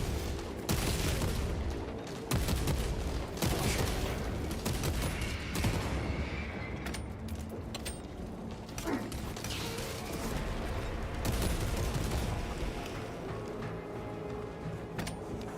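Rapid gunfire from a weapon in the video game Space Marine: dense, continuous bursts of loud shots and booming impacts, with crashes and explosions layered throughout the whole stretch, no talking.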